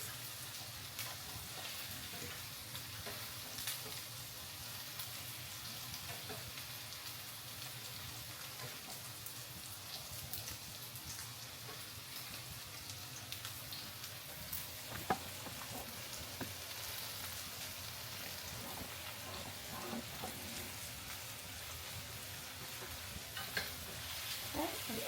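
Onions and peppers frying with potatoes in a pan, a faint, steady sizzle and hiss that runs throughout with occasional soft crackles and stirring clinks.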